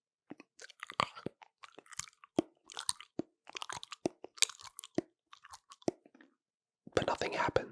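Close ASMR chewing and crunching, bursts of crisp bites in irregular clusters with short pauses, ending in a denser, louder stretch of crunching; no talking.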